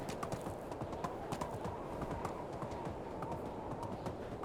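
A horse's hooves clip-clop in a fast, even rhythm while it is ridden in the medieval game Medieval Dynasty, a steady patter over a dense background bed with no voices.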